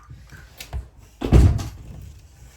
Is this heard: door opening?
yes